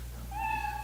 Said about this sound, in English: You know your 60 seconds is up when you hear the sound of a kitten